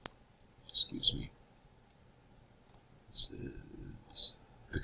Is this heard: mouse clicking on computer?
yes